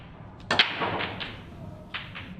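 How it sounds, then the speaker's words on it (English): A pool break shot in a match, a sharp cue-ball strike followed by a crack of balls colliding and scattering, then a fainter second knock of balls a moment later, close and clear. "Booming break."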